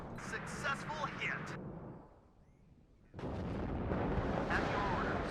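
Artillery fire in the WARNO war game, heavy booming blasts and rumble that fade into a quieter gap, then return as a dense, loud barrage.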